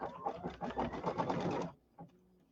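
An embroidery sewing machine stitches out a quilting design, a rapid rhythmic patter of needle strokes that stops abruptly partway through, followed by a single soft click in near silence.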